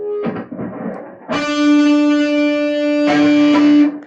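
Electric guitar sounding a D note fretted at the 7th fret of the G string with the lower strings muted, heard alone as two sustained, clean-ringing plucks after a brief muted scratch, fairly loud and close.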